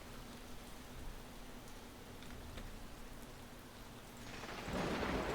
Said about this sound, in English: It takes 3 lightning strikes before it goes off.